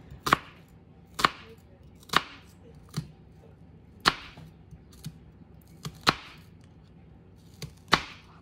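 A kitchen knife making parallel slices through an onion on a cutting board, giving about eight crisp, close chops at a slow, fairly steady pace with short quiet gaps between them.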